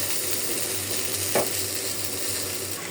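Pieces of rohu fish fry in hot oil in a pan with garlic and cumin paste, giving a steady loud sizzle that runs throughout, with one brief stirring clatter partway through.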